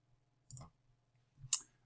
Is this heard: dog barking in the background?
no